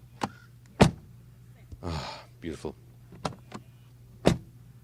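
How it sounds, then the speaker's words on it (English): Luxury SUV doors unlocking with keyless entry and shutting, sharp solid thunks spread apart, with a brief motorized whir in the middle and someone speaking briefly. "open it like this with the keyless entry and door closing sound"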